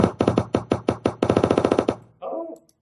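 Rapid bursts of gunshot sound effects in a shooting game built in Adobe Director 12, firing in a fast rhythmic volley for about two seconds, then a short muffled tail.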